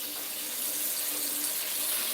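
Tap water running steadily into a kitchen sink as juice produce is washed, a continuous close hissing splash with no talk over it.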